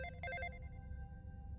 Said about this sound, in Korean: 어느 날 저녁 휴대전화가 울렸어.